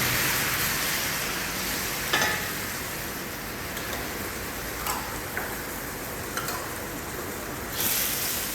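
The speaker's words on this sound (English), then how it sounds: "We'll deglaze the pan with red wine." Red wine deglazing a hot pan, a loud continuous hiss and sizzle throughout with a few faint clicks and scrapes of stirring.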